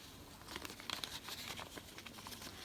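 Paper envelopes holding post are opened and handled indoors, a soft, faint, continuous crinkling and rustling with small tearing sounds, close by and with no talk.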